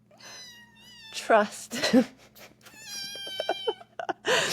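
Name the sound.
cat meowing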